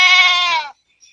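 A single goat bleats loudly and close by on a goat farm, one sustained wavering call lasting under a second, followed by silence and a faint brief sound.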